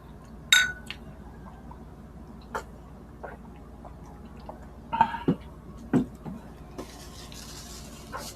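Glasses clink in a celebratory toast during a fiesta meal of beef caldereta in Mabalacat, Philippines: a few sharp, bright chinks scattered over several seconds, close and moderately loud, with quiet room ambience between them.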